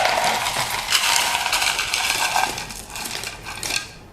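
Ice scooped with a 16 ounce portion scoop, a run of close, bright clinking and rattling cubes sounding for a few seconds, loud and alone.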